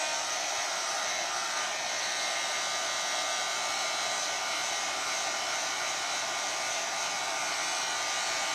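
A hair dryer blows steadily and loudly close by while drying a decoupaged glass jar, a constant broadband whoosh with no change in pitch and no talking throughout.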